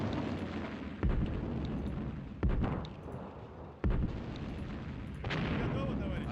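Artillery fire in the Sudden Strike Gold strategy game, three heavy booming shots at spaced intervals over a constant rumbling battle bed, with a further swell of distant blasts toward the end.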